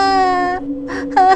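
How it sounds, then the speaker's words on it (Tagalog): A child sobbing and whimpering in a forest storybook scene, a loud, close, wavering wail that breaks off briefly and then resumes in a higher, strained cry, with no spoken words. "Nang biglang may narinig siyang batang umiiyak mula sa lupa."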